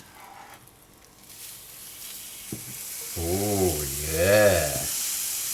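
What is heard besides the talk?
cheese sandwich frying in a pan after being flipped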